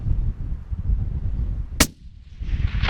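A single sharp, loud rifle gunshot fired at a possum in a tree in remote hunting country, standing out once against outdoor ambient noise, with a brief quiet dip after the crack.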